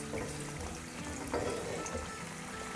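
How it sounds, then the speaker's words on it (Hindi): White parts of green onions sizzling and frying in a hot pan, a steady close crackle with faint stirring scrapes and no talking. "और इसको सॉटे करेंगे"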